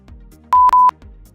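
Three short, loud electronic beeps at one steady pitch come from an iPhone X confirming an Apple Pay payment, the second and third close together, with quiet room sound before and after.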